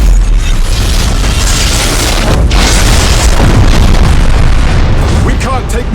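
Loud, dense booming and crackling blasts as a ship explodes in the Battlefleet Gothic Armada 2 video game, a sustained roar of detonations with voices faintly mixed in.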